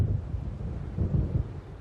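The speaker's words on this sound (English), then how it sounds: "It seems there's a storm coming." A low, rumbling thunderstorm building over open water in Alan Wake Remastered, a deep continuous roll with gusty wind noise, steady and fairly loud, no voices.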